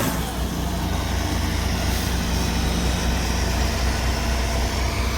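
Loud, close, continuous rumble of a turbo diesel tractor engine with a rebuilt engine, running steadily at an even idle-like pace with no talk over it.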